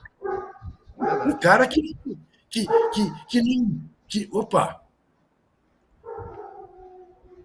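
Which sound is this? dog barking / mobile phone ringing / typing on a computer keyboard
dog barking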